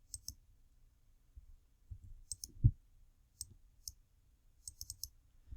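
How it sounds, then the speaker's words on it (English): Sharp computer mouse clicks come in quick pairs, several double-clicks spread unevenly over a few seconds, close and crisp over a faint low background rumble. "Now, I'm double-clicking on each one as I'm completing them."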